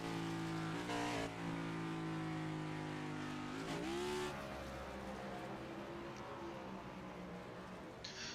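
Race cars at Watkins Glen International roar past at close range in a continuous loud engine drone, with a couple of sharp rising pass-bys and no voices.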